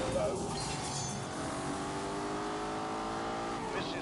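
An Aston Martin DBS cruising in GT mode in a racing video game gives off a smooth, sustained engine hum with gently climbing revs. The tone stays steady and close, with faint talk present.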